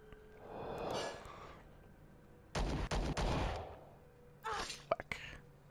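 Sniper rifle fire in the sci-fi tactics game Star Traders: Frontiers: a couple of short, sharp bursts separated by near silence, fairly quiet overall.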